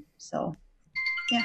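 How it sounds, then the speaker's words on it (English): A mobile phone ringtone chimes in bright, sustained electronic tones, loud and close, overlapping with a person talking. "Oh, phone call. That's just my phone."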